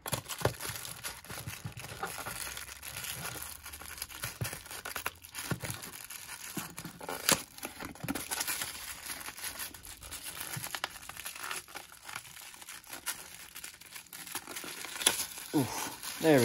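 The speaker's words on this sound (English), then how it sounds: "Plastic was hard to cut there." Plastic toy packaging for a Star Wars Black Series figure is cut and torn open, with ongoing crinkling, scraping and ripping close by under intermittent talk.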